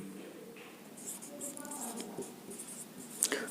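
Chalk or marker writing on a board during a class 12 physics lecture on Ampère's circuital law, with faint intermittent scratching strokes against a quiet room and a sharper tap near the end.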